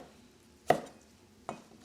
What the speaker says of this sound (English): the rest of that we'll just slice into nice long diagonals